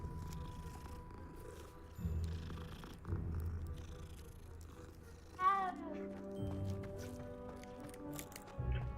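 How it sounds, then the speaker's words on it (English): Cats purring in Hogwarts Legacy, a low steady rumble that swells in a few pulses with a brief meow-like call midway, set against game music. "What are these cats?"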